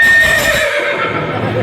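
A horse gives a loud, close neigh whose whinny rises and then trails off, with a faint thud of hooves underneath.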